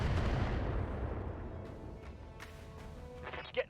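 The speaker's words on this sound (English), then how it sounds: "They fire on the Salamander." Heavy weapons fire booms and rumbles against the Salamander mech in the RogueTech game, a dense low barrage that thins into scattered impacts and one sharp hit near the end.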